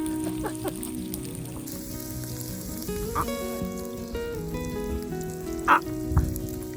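Meat frying in oil over a riverside campfire, sizzling and spattering steadily, with a few louder crackling pops and some faint background tones and clatter.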